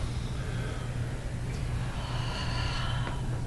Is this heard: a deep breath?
yes